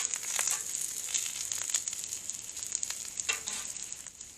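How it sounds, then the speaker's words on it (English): Garlic butter melts and sizzles on veggies frying on a griddle for shrimp fried rice, a steady close crackling sizzle with occasional scraping stirs and pops. "I'm going to take a little bit of this garlic butter that I made and put it on there and just let that kind of melt down"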